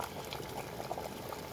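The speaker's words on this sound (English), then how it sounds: "there's a sensor that triggers the tea kettle to stop boiling the water" An electric tea kettle brings water to a steady rolling boil, a soft continuous bubbling and rumbling close by, no talk.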